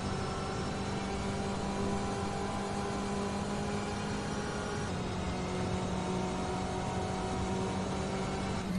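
A race car in the rFactor 2 racing game during Petit Le Mans qualifying, its engine drone holding a steady, sustained tone as it accelerates toward a corner, fairly quiet and uninterrupted with no talking.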